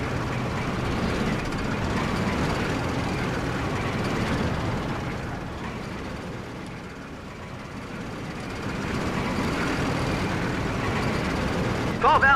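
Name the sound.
train moving in video game Codename: Panzer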